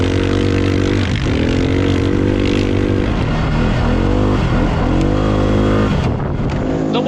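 A CFMOTO side-by-side UTV engine drones loud and steady from the cab while driving, rising and falling in revs with a few throttle shifts and no talk over it.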